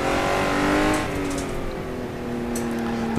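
A Honda NSX engine on a kart circuit revs loudly up close, its tone dropping as the throttle lifts and then holding a steady drone.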